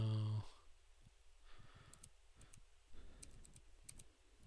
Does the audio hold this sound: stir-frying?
no